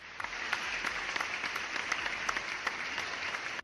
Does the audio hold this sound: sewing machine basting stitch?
no